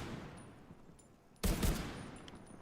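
A short, loud burst of rapid gunfire in The Division 2 erupts midway and then decays into a reverberant tail, against a quiet game ambience.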